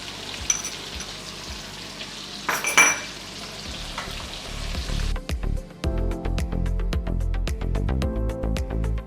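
Fenugreek seeds dropped into hot oil for a Bihari fish curry: a soft sizzle at first, then a louder steady crackling fry with sharp pops and spoon scrapes against the pan, with no talking.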